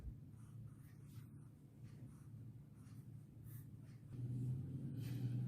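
A pen or pencil writing Hindi letters by hand, with steady soft scratching strokes close up, the low background growing slightly louder near the end, and no voices.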